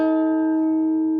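Electric guitar bend with the B string left unmuted, a bright sustained tone ringing evenly and loudly throughout, heard alone.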